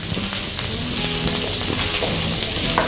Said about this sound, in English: Once it's hot, add chopped ginger and garlic to this.